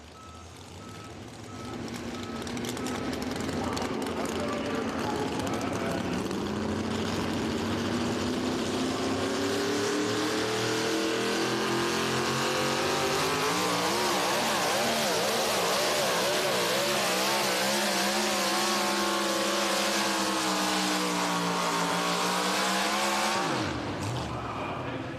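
Pulling truck engine roaring loud and sustained during an NTPA Super Nationals truck and tractor pull run in Tomah, Wisconsin, the pitch climbing and wavering over about twenty seconds before cutting off abruptly.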